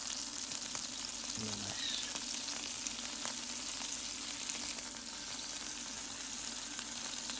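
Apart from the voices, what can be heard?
Iceland Big Daddy sirloin steak frying in the pan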